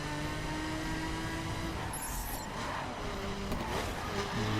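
Maserati MC12 launching hard off the line in The Crew, a loud, steady engine roar rising in pitch as the supercar accelerates, with faint tire noise.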